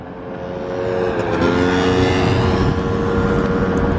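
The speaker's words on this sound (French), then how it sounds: "il y a une Porsche GT3 RS qui arrive, les nouveaux modèles. Elle fait un bon petit bruit" A new-generation Porsche GT3 RS arrives on a Monaco street, its engine and exhaust swelling from a distant rumble into a loud, sustained, steady roar with a strong harmonic drone, holding near and full for several seconds.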